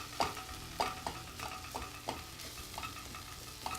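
Vegetables sauté in a pan as cumin is added and stirred in, with a gentle continuous sizzle and rhythmic scraping strokes of a utensil, close up and quiet, without any voices.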